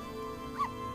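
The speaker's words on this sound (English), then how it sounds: "Big dog, small bark." A small, high yip from a big dog in the video game Okami, a single brief bark over steady game background tones, faint and quick.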